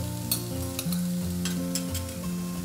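Onion and carrot frying in a pan for a veggie soya burger give a steady close sizzle with occasional stirring scrapes, over a sustained tonal background like soft music.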